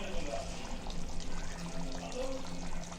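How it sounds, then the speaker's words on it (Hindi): Lemon juice is poured onto cooked chicken in a pan for a Kokani chicken thali, giving a soft, steady liquid pour and trickle close by that lasts about three seconds. "अब ये नींबू का रस डालेंगे और 1 मिनट पकाएंगे और उतार देंगे"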